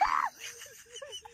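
A short, shrill scream bursts out loudly at the start, then drops away into quieter murmured vocal sounds and soft voices.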